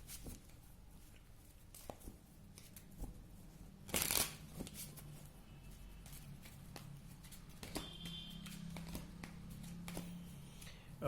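Tarot cards being shuffled by hand, soft repeated riffling and tapping at close range with one brisk, louder riffle partway through, quiet overall with no voice.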